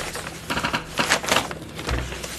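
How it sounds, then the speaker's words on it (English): Typing on a keyboard: a quick irregular patter of light key clicks, fairly close and steady, ending with a soft low thump. "So I'm typing in the word hawk."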